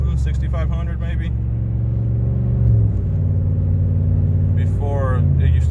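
A Ram 1500 pickup with Doug Thorley 1 3/4 catless headers and a 93 tune accelerates, its loud, deep engine drone holding steady and rising in pitch through the gears, with people speaking over it.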